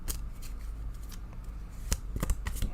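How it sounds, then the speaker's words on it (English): A deck of Lenormand cards is shuffled by hand up close, with a soft continuous riffle that ends in a few crisp snaps and taps as the cards are squared. "I shuffle until Spirit asks me to stop"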